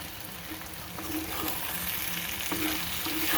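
Eggplant frying in a pan as a spice powder is added and stirred in, with a steady sizzle and scraping stir sounds throughout, gradually getting a bit louder.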